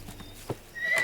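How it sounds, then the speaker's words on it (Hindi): A horse gives a short whinny, with a few hoof clops beforehand and a rising high-pitched neigh at the end, moderately close and fairly faint, with no talking. "ये घोड़ा तो मेरे पापा से भी बुरा है।"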